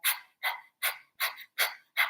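A person imitates a puppy panting for breath-of-fire breathing: six quick, evenly spaced breathy huffs, close and fairly soft, with no other talk.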